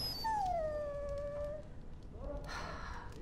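A dog in the fantasy role-playing game Dragon Age: Origins gives a long, sliding whimper that falls in pitch, followed by a softer whine over a low ambient game background, no talking.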